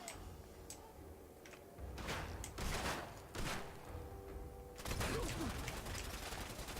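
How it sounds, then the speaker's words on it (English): Double-barrel shotgun blasts in the game Fallout, a few loud broadband bursts spaced seconds apart amid a steady game-noise background. "Pull out our double barrel."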